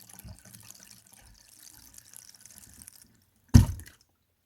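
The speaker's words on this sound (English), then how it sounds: "And now the drain is draining freely." Water drains freely from a bathtub after being cleared with an air-powered Pipe Blaster drain cleaner, a soft trickling gurgle that ends in a brief loud splash or burst before falling quiet.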